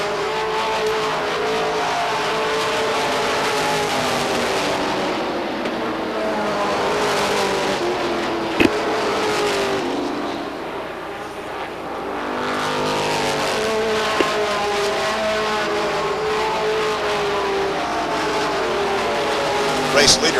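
Stock race cars roar around Beech Ridge Motor Speedway in 1992 weekly racing, a dense, continuous engine drone that swells as the pack passes, with an announcer talking over it.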